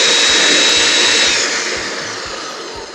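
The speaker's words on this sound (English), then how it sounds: "And then we gotta blend it up." A blender whirs loudly and continuously as it purees a pumpkin pie smoothie, holding steady before the pitch eases slightly and the motor noise tapers off toward the end.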